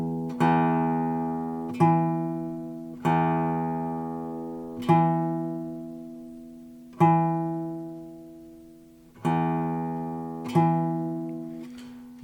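The low E string of an acoustic guitar with poor intonation that drifts sharp is plucked again and again, about eight ringing notes each slowly fading before the next, heard close and clear with no talk.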